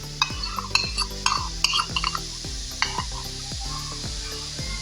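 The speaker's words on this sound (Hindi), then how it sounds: "ये दही भी इसके अंदर डाल दूँगी।" Yogurt goes into a pot of spicy chicken biryani with steady sizzling underneath. A spoon scrapes and stirs in a repeated rhythm, close and fairly loud.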